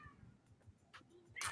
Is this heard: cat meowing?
yes